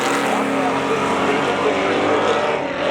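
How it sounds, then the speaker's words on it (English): A 1985 Chevy Camaro and a 1995 Firebird race on a track, their engines roaring in a steady, droning snarl that holds through the corners at moderate distance. "he goes hard into the corner, drifts it through 3 and 4, powers off turn number 4"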